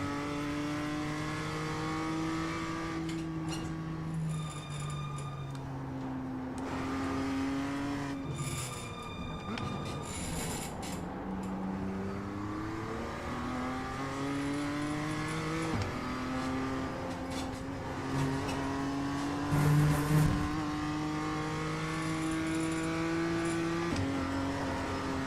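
A race car engine revs and shifts repeatedly during track practice at Oulton Park, the pitch climbing in long sweeps through the gears with brief tyre squeal, loud and continuous with no talking.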